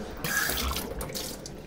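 Water runs steadily from a tap while washed cups are rinsed, a close, continuous splashing hiss with small shifts as the cups move under the stream.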